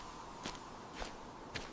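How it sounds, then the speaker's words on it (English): Footsteps echoing in darkness, three distinct steps at a slow, even pace, fairly close, over a steady background hiss with no voices. "Footsteps echo in the dark"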